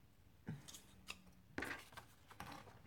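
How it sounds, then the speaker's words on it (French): Scissors cutting during vintage Christmas decorating of a small wooden house, a few quiet separate snips and crunches with soft rustling between them, close and alone without talk. "Alors là, par contre, je vais prendre mes ciseaux."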